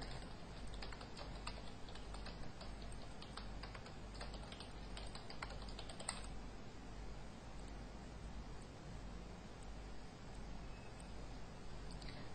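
Quick, irregular clicking of keys on a computer keyboard while text is entered in CorelDraw 12, a steady patter of taps for the first six seconds that then gives way to quieter background noise.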